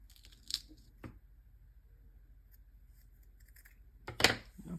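Scissors snipping through drywall tape, a few sharp cuts with crinkly paper sounds, one snip near the start, one in the middle and a louder one toward the end, close up in a quiet room.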